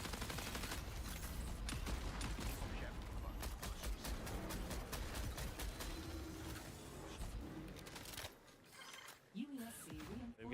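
Rapid bursts of gunfire ring out in Marathon gameplay, dense overlapping shots that crackle almost continuously before dropping away into a brief lull near the end.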